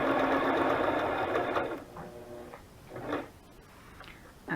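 A sewing machine whirs steadily while stitching a long fabric ruffle for a butterfly journal, then stops, leaving faint handling clicks and short bursts of movement, with no voices.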